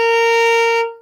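A single sustained B flat bowed on a violin, steady and clear with rich harmonics, held alone before fading out at the end.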